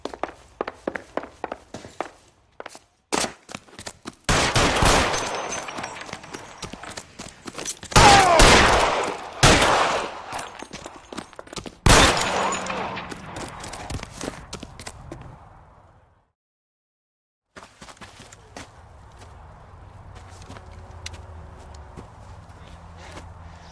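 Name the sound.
gunfire in the video game L.A. Noire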